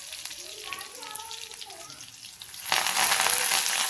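Garlic cloves sizzling in hot oil with cumin, a steady frying hiss that swells suddenly louder partway through, heard close up while a voice talks over the first part.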